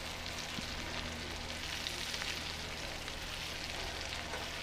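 Liver browning in a frying pan for liver and onions gives off a steady, dense sizzle and crackle, close and even throughout with no talking.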